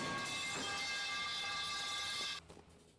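A subway train from the mobile game Subway Surfers rumbles with a steady rolling roar and sustained tonal whine, holding loud and even before cutting off abruptly near the end, leaving faint residual noise.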